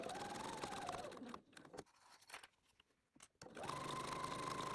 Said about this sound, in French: On va coudre tout le tour en laissant un trou dans la doublure.